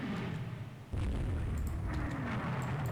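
Heavy naval shells striking and exploding in the warship game Rule the Waves 2, a sudden deep boom after a quieter start, followed by a sustained rumbling roar with scattered cracks, all without any talking.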